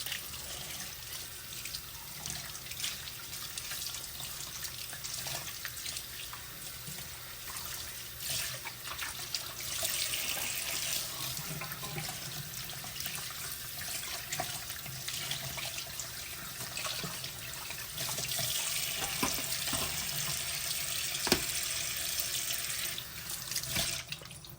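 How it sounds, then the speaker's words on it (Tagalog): Tilapia fish are washed in a kitchen sink under a steadily running tap. The water flows continuously and splashes throughout, with small shifts in tone as the fish are moved under the stream. No voices are heard. "hugasan natin mabuti ang ating tilapia"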